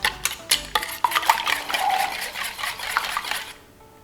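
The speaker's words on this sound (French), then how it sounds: "je vais continuer de mélanger un petit peu" A utensil stirs omelette mixture in a bowl with a rotating motion, giving quick scraping clinks at first, then a steady scraping swirl that stops abruptly near the end, close up and with no voices.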